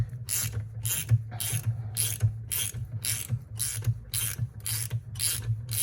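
Rhythmic ratcheting of a fitting being threaded by hand into a Superjet jet ski part, about a dozen evenly spaced scraping clicks with a steady low hum underneath, close and moderately loud.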